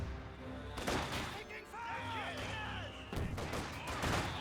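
Soviet conscripts' rifle fire crackles in a Company of Heroes 2 battle, bursts of scattered shots and rattling volleys mixed with distant booms, while a commentator talks over the fighting.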